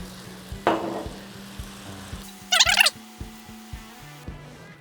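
Carrot curry sizzles softly in a pan while being stirred, with a spoon scraping and tapping at an uneven rhythm, close and fairly quiet.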